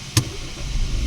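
A car rolls slowly inside, its engine a low rumble with a short sharp tick near the start, steady and close, without speech.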